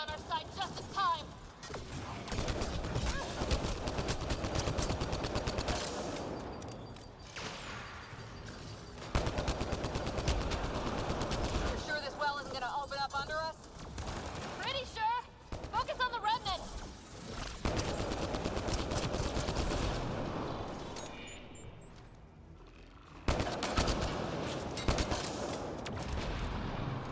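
Turret gunfire in Mass Effect Andromeda arrives as loud bursts of rapid shots separated by short pauses, mixed with game effects and speech.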